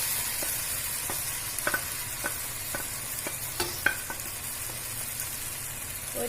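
Fried chicken sizzles in a Thalassery chicken biryani masala of smashed tomatoes, a steady close frying hiss broken by repeated scraping clicks of stirring.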